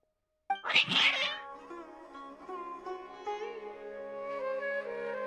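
Agitated cats in Genshin Impact let out a loud, drawn-out, wavering meow that starts sharply and then holds as a long caterwaul with no talking.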